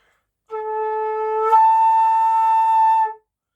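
A flute A note is blown with too much air pressure, one sustained tone about two and a half seconds long that jumps to a breathier, airier upper register partway through, loud and alone.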